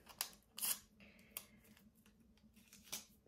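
Scissors snipping glue dots in half at a papercraft table, a few short crisp snips and light handling clicks, close and quiet with no talking.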